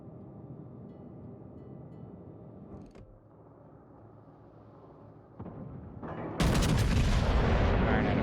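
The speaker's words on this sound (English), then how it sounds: "Firing at a fast battleship." Battleship main guns fire in World of Warships, a heavy, loud booming salvo that erupts near the end after quieter rumbling engine and ambient game noise, with a sharper crack midway.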